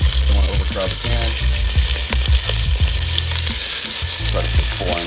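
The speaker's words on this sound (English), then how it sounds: "we're going to put the beef ribs in, brown them, do a couple at a time" Beef ribs brown in hot, shimmering oil in a pot, giving a loud, continuous sizzle and crackle with occasional clinks and scrapes close by.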